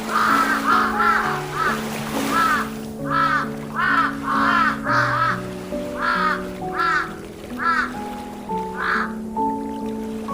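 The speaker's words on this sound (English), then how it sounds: "Noah sent out a raven, which flew back and forth until the waters dried." A raven caws in a repeated series of harsh, hoarse calls, about a dozen bursts spaced unevenly across the stretch, heard over a steady musical background with sustained tones.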